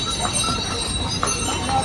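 Horse hooves clip-clopping steadily along the Kedarnath trek trail in October, a continuous close rhythm of footfalls mixed with broad outdoor noise throughout.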